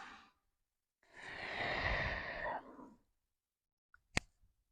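Slow, audible breaths taken during an unhurried full-body stretching session: one long, soft exhale-like sigh in the middle, faint breaths at the start, and a few small clicks near the end, with no talking.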